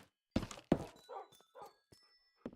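Several short barks from Minecraft dogs, a few sharp yips spaced irregularly with softer whimper-like sounds between, fairly close and moderate in volume, no talking.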